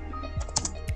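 Keys on a computer keyboard are tapped while typing in MS Word, a few close, quick clicks in about a second, set over a steady low room hum.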